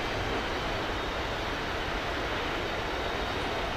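An AV-8B Harrier jet engine in the DCS flight simulator, a loud, steady, unbroken roar that holds at a constant level throughout.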